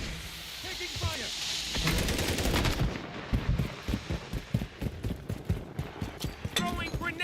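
Rapid bursts of gunfire in Call of Duty: Modern Warfare III multiplayer, dense repeated shots and impacts close by, with voices calling out amid the battle.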